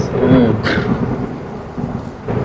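A crack of thunder over steady heavy rain, a sudden downpour setting in; the rumble sits near and loud at first, then the rain hiss carries on alone.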